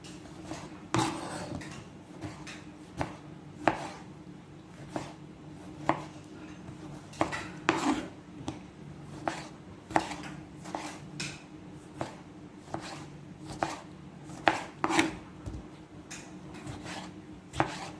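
A knife chops sausage into small pieces on a board, with sharp, fairly regular knocks repeating steadily, close up, over quiet kitchen background and no talking.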